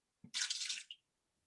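Water pours briefly into a cooking pot in a kitchen, a short close splash and rush lasting under a second after a small knock.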